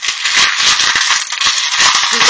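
A pile of small gris-gris charms and trinkets is shuffled by hand with a loud, continuous, close-up rattling and clinking that stays dense for the whole short moment.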